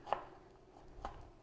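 Two separate knife strokes through an onion on a cutting board while dicing it small, a sharp chop near the start and another about a second later, quiet room between.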